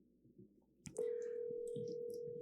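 A telephone call tone sounding after a click, a single sustained steady electronic beep that starts abruptly and holds evenly, quiet and close, with faint background rustle before it.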